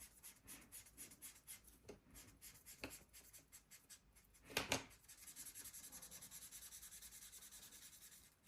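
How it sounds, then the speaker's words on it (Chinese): A colored pencil shading paper in quick rhythmic back-and-forth strokes, close and soft, becoming a denser, steadier scratching in the second half. "涂色。"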